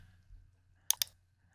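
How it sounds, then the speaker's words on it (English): Two quick crisp clicks of a computer keyboard key being pressed, close and distinct against a quiet low hum. "Let me press A on our keyboard."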